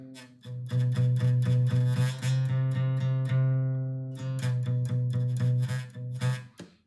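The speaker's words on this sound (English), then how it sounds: "I'm going to get that note to buzz like this, which is not good" Acoustic guitar note fretted too far behind the fret, struck repeatedly in a quick rhythm with a rattly, buzzing edge, close and alone.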